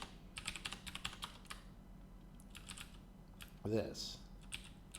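Quiet, close clatter of a computer keyboard in quick bursts of keystrokes with short pauses, broken by a brief spoken word in the middle.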